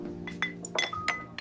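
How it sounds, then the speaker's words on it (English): Light glass clinks ring out a few times in an AI-generated jazz club scene, sharp and bright over a steady hum of distant music and murmured ambience. "The distant music, the clinking of glasses, the subtle conversation murmur"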